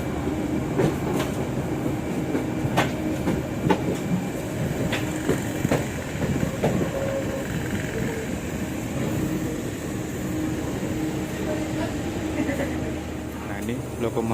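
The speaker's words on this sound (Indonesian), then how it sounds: "ini lokomotifnya melangsir menuju ke lokomotif dinas yang tadi" A locomotive shunts at a freight station in Indonesia, with a steady rumble, intermittent clanks and rail clicks heard near and continuous, and voices talking over it.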